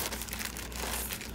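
Plastic bag stuffed with sari silk crinkles and rustles steadily for a moment, close and fairly quiet, with no voice over it.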